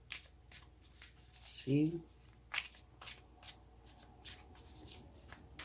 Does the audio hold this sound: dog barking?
no